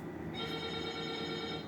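Close, steady mobile phone ring in a Sprouts Farmers Market, a sustained bright tone over low store hum that continues without a break and with no speech.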